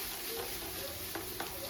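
Vegetable fried rice with egg is stir-fried in a pan, giving a steady close sizzle with a few brief scrapes and clinks as the rice is tossed, with no talk.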